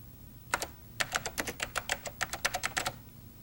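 Rapid keystrokes on a computer keyboard from a 1989 spreadsheet program session, one short burst followed by a steady run of about a dozen crisp clicks, close and clear with no voices.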